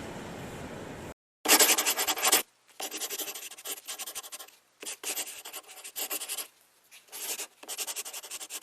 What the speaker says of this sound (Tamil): நம்ம இந்த இடத்துல நம்ம சேனல் பேர் எழுதி விட்டுறலாம் கைஸ்